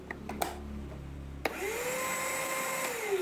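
A Premier cordless vacuum cleaner, powered by a power tool battery, starts up after a few clicks and handling noises, then runs with a steady whirring motor hum.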